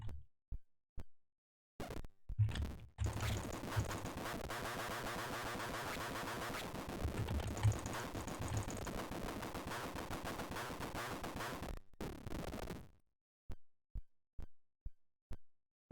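Walls being blasted apart in the video game Catacomb 3-D: a long, loud barrage of rapid crackling blasts runs from about two to thirteen seconds, with sparse sharp clicks or footsteps before and after it.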